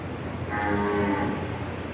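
Cattle moo at a livestock show, a single drawn-out low call rising and falling over steady barn crowd noise, fairly close and clear.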